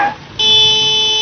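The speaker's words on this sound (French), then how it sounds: "Eh ben il klaxonne." A car horn sounds in a radio drama, a sustained tonal honk with a short break and then a steady, loud blare.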